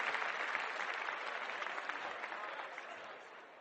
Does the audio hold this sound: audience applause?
yes